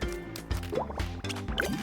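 Cartoonish bubbling water in the video game Tinykin, a quick series of gurgling blips and drips rising in pitch, close and fairly loud with no voices.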